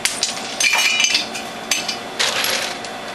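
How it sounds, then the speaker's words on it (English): Ice cubes rattle and clink as they are pushed into the feed tube and cutter of a Whole Health Foundation juicer, giving sharp scattered knocks and grinding bursts with short gaps between them. "feed in some ice cubes to cool down the feed tube and the cutter"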